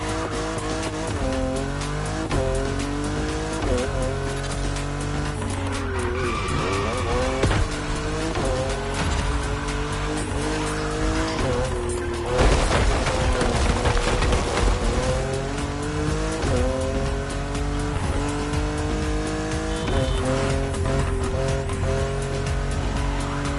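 Race cars in The Crew Motorfest on a mountain road in Hawaii, loud revving engines rising and falling through gear changes with tire squeals and skids, continuous and close throughout.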